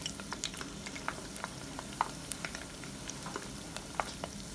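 Chicken spring rolls wrapped in sheets fry submerged in hot oil, giving a steady close-up sizzle dotted with small pops and crackles throughout, with no talking.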